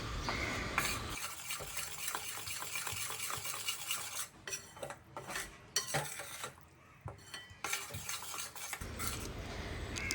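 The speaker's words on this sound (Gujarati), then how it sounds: "10 થી 12 મિનિટ સુધી આ રીતે સતત ચલાવતા રહેવાનું છે અને શેકવાનો છે." Flour being stirred and roasted in a pan for Gujarati sukhdi, with soft continuous scraping and clinking of a spoon against the pan and a faint sizzle, fairly quiet, no talking.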